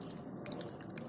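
Water dripping from a juniper planted in a colander after watering, a quiet run of soft, quick drips and trickles, faint and close with no talk.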